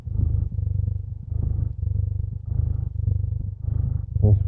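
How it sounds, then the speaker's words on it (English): Pet cat purring close up in steady rhythmic cycles, loud low rumbling pulses with brief pauses between breaths. "The sweet sounds of cat purr."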